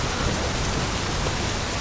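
Heavy rain pours down as a dense, steady hiss with no talk, ending in a sudden loud crack.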